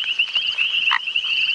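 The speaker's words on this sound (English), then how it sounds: "And then I played it the sound of the foam nest frog" Foam nest frog call played back from a phone app during an early-morning safari drive, a steady high-pitched trilling croak with a brief louder note midway, heard clearly with no talk.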